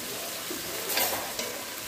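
Scallion frying in a pan for ackee and saltfish, a steady broadband sizzle with faint stirring scrapes and a couple of brief louder spurts, close and continuous with no talk.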